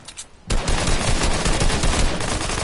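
Gunfire in the video game Fortnite: after a brief quiet moment, a loud rapid stream of shots bursts in and continues without pause, close and dense.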